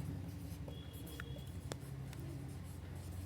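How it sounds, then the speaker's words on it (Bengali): Faint chalk or marker strokes scratch across a board in short, soft bursts against a quiet room hiss, with no talking. "এটা এখানে লিখে দিচ্ছি"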